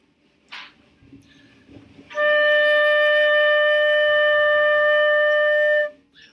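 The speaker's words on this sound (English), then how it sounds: "let's go ahead and play D together" A flute sounds a single sustained D note, clear and steady for nearly four seconds, after a few soft clicks and breaths in a quiet room.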